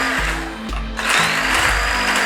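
A handheld immersion blender whirs through a batch of night milk, motor pitch rising and dropping as it is worked up and down, loud and continuous up close.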